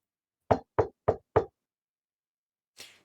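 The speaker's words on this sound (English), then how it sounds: "You knock on the door." Four crisp knocks on a door in quick even succession, close and loud, followed by a brief fainter rustle after a pause, with no talking.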